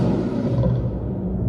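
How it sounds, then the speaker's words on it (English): A deep, growling monster roar blended from elephant, bear and lion sounds, one sustained bellow that fades out over a second and a half. "right now, I just want to show you the roar for this chimera."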